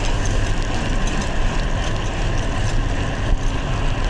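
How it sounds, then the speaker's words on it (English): A farm tractor on a rural road behind a cyclist on a wet winter ride, a loud continuous low engine rumble blended with steady wind and road noise. "Okay, tractor behind me."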